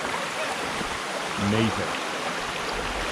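A river flows with steady broadband rushing water under a ruined mill, continuous throughout, while a voice speaks briefly in the middle.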